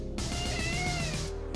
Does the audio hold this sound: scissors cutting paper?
no